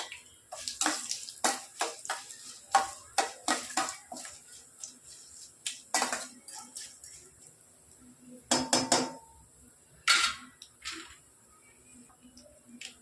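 Dried red chillies and curry leaves go into a pan of hot oil as a tempering for temple-style puliyodharai tamarind rice, giving close, sharp crackles and clattering bursts in an irregular run, with no voices.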